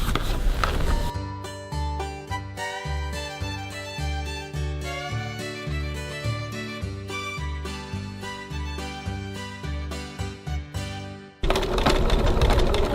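A sewing machine runs in bursts, stitching around the curves of a fabric bag, its rapid mechanical needle clatter pausing and restarting as the seam is guided, then a loud whir resumes at the end.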